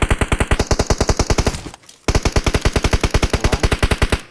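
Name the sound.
gunfire in a video game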